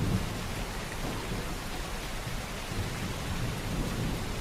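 Steady rain falls over a faint, low thunder rumble in a continuous, even hiss, with no voices and no sharp thunderclaps.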